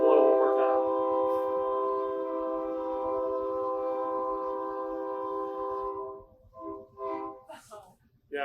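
A train horn blasting near a construction area, one long sustained loud blow of several seconds, then fading into quieter background with faint talk.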